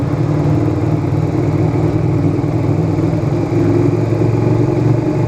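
A motorcycle with a timing retard mod runs steadily nearby, its engine rumbling loud and even with a faint swell partway through and no talking.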